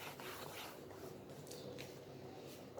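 Chalk or board eraser rubbed across a classroom board during a class 12 matrices maths lesson, a steady continuous scraping swish lasting a few seconds, close and moderately loud with no talking.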